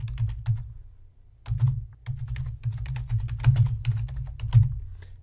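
Keystrokes on a computer keyboard while a file name is typed, a quick irregular run of close clicks with a short pause near the start, then steady typing to the end.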